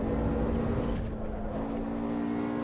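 A BMW in the Assetto Corsa Evo racing sim drones with a steady engine tone, slightly easing off midway and then holding a constant pitch.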